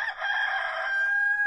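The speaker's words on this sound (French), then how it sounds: "un coq se met à chanter" A rooster crows once, close and clear, in a long, drawn-out call that holds steady and then fades out, with no other sounds around it.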